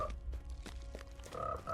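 Toads croak in a Lord of the Rings Online game scene, a steady run of low guttural calls repeating through the short stretch, fairly close and loud over a busy ambient game backdrop.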